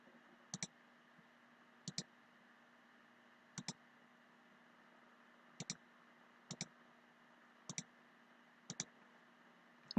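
Pairs of sharp computer mouse clicks spaced a second or two apart while drawing in LibreCAD, near and crisp over a faint steady hum.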